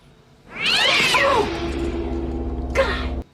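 A cat's loud, harsh yowl used as a jump scare in the Chucky TV series: one drawn-out caterwauling meow close up, followed by a short second cry before an abrupt cutoff.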